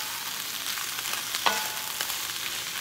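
Vegetables frying in butter and a little sesame oil in a pan on a stovetop at medium heat, a steady close sizzle with a brief scrape of stirring.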